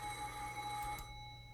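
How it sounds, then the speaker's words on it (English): Telephone bell ringing steadily in a visual novel scene, a faint continuous electronic ring that cuts off about two-thirds of the way through, with no talk. "The continued ringing of the phone made her headache throb even more strongly"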